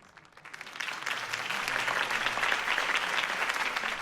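Steady applause from a crowd in the Batman Telltale video game swells in after a quiet start and holds at full strength, dense clapping filling the scene.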